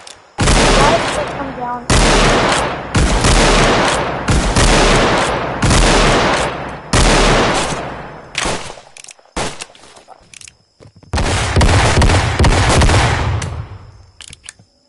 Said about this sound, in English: Okay, now they're shooting at me